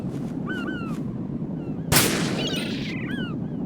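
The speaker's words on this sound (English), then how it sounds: "Oh god, did I shoot the bird?" Crows cawing in Metal Gear Solid 2, cut by a single sharp gunshot, then a flurry of squawks and flapping as the birds scatter, over a low ambient rumble.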